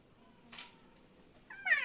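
A pet cat gives a faint meow, with a soft sound partway through and a clearer, louder meow at the end, in a quiet room.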